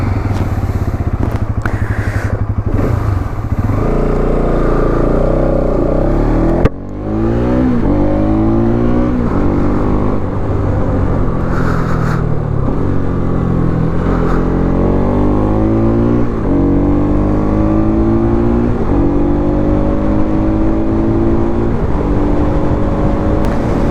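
A vehicle engine drones steadily and loudly throughout a long highway ride from Delhi toward West Bengal, with harmonic tones rising and falling as the speed shifts, and one brief dip partway through.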